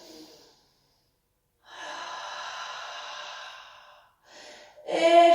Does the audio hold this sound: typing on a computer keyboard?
no